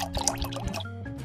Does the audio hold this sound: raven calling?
no